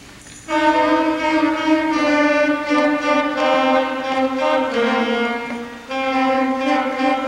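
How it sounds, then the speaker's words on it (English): After a brief quiet start, a school saxophone section in a combined Irving and Longfellow band concert enters loudly, sustaining bright, buzzy notes through a short phrase with a breath near the end, close and unaccompanied by speech. "And now the sound of the saxophone."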